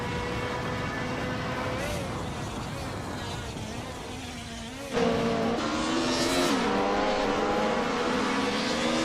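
Video game racing cars, among them a Mercedes 190 Evo 2, whine past in a steady engine drone with rising and falling gear tones, growing louder midway as another car closes in.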